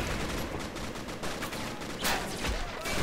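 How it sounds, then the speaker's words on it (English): Machine gun fire in the World War II strategy game Men of War Assault Squad 2, a dense, continuous crackle of rapid bursts on a German line, steady and fairly loud with no voices. "Got a German line there, like you see the machine guns."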